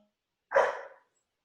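A dog lets out one short, sharp bark, close and loud against otherwise near silence.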